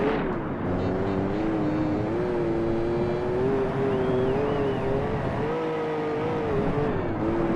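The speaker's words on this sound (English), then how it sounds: "I'm driving a Dodge Ram twin cab on a rally stage" Dodge Ram twin cab truck driven hard on a rally stage in Gran Turismo 4, its engine droning steadily with rising and falling pitch throughout, loud and continuous with a brief dip near the end.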